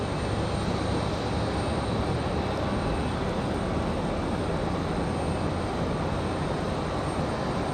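A Breeze Airways A320 airliner touches down on runway 23 right, a continuous loud roar of engine and rushing air holding steady without any voices.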